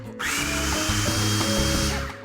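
A blender pulses a creamy cheesecake mixture, a steady loud motor whir running continuously for about two seconds with a rough, churning texture.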